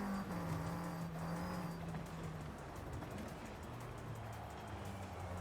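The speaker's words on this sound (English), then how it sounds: "you can hear the revs coming out of my engine, just slowly and constantly in those long turns" A racing car's engine in Forza Horizon 5 holds a steady, sustained rev through long off-road turns, droning continuously at moderate volume with slight shifts in pitch and no talk over it.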